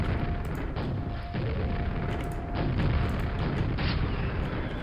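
Rocket launcher blasts in the game Quake, a dense, continuous barrage of booming explosions and loud crashes that never lets up, with no talking.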